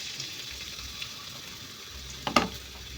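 Garlic sizzling in hot oil with ginger in a ship's galley, a steady faint frying hiss that swells into a brief louder crackle near the end.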